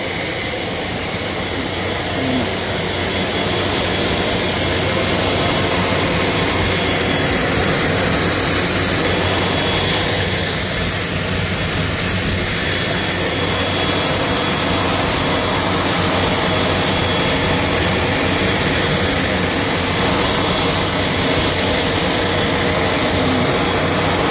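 A Cebu Pacific turboprop passenger plane's engine runs while people board for a flight to Mactan, Cebu: a loud, steady, close roar and hum that holds unbroken, with no talking.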